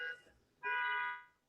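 A loud, steady tonal alarm horn sounds alone for about half a second, following a fainter, shorter blast of the same tone just before it.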